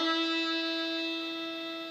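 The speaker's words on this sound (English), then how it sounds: "Our main note is the first finger, and the grace note is the open D before it." A single sustained bowed note on the open D string of a violin rings steadily and clearly, fading slightly over two seconds with no talking.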